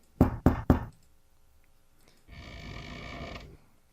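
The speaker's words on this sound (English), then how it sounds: "Better knock harder." Three loud, evenly spaced knocks strike a bedroom door close by, then quiet, then a muffled rustling noise follows.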